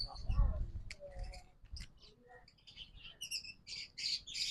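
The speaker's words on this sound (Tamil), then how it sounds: "இப்போ நிறைய குருவியல் இருக்கு" Many small birds and parrots in an aviary give scattered shrill squawks and high chirps, close and irregular, mixed in with someone talking.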